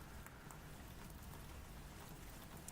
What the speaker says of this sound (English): Before I knew it, it was pouring rain. Droplets pitter-pattered on the roof.